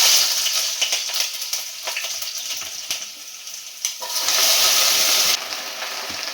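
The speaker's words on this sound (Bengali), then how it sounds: "এবার আমি ঢ্যাঁড়সটা দেখো তেল গরম করেছি, এর মধ্যে দিয়ে দেবো।" Okra and tomato dropped into hot oil in a pan, giving a loud, continuous sizzle and crackle that swells midway and stays close, with no talking.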